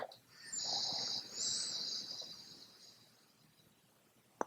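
A slow nasal inhale through the left nostril during alternate-nostril breathing in a yin yoga session: a soft, airy hiss that swells, then gradually fades, heard close and alone.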